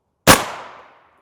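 A single sharp impact of a 300 Win Mag rifle round striking an Adept Colossus armor plate, loud and close, with a metallic ringing decay that fades over most of a second.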